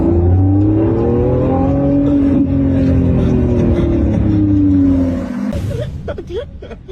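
A Lamborghini's engine drones loud and close as it accelerates, a steady rising roar with whirring harmonics that eases off near the end into quieter rumble.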